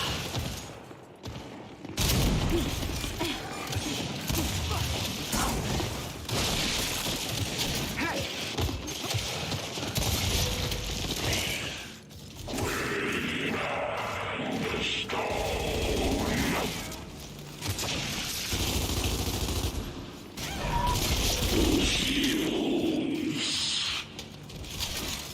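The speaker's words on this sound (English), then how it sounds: "Sniper fire!" Gunfire and sniper shots from the video game Gears 5 during multiplayer play, a dense, loud and continuous din of bursts, impacts and mechanical clatter with short pauses, layered over game effects and voices.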